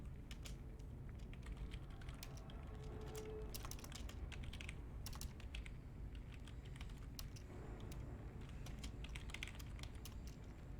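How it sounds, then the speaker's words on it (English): Rapid, steady clicking of fingers typing on a computer keyboard during a StarCraft tournament match, close and fairly quiet, continuous bursts of keystrokes with no talk. "And let me type out the other ones too."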